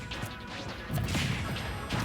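Super Smash Bros up smash attack landing in a tournament match, a sharp crash-like hit with a swoosh, then a busier burst of impacts around the middle, over steady game noise.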